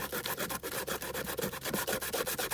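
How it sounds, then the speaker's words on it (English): Hand sanding of an altered iPad box, a steady rhythmic scrubbing of abrasive paper, close and fairly loud, with quick regular back-and-forth strokes and no talking. "sand that off completely"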